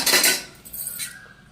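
A spoon pulled out of a covered utensil container, giving a short close metallic rattle and scrape that fades quickly.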